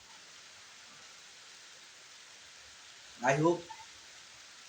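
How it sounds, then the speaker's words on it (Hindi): Steady rain falls in a soft, even hiss, a continuous wash of faint patter throughout. A person speaks briefly near the end. "देख रहे हो इस समय बारिश हो रहा है"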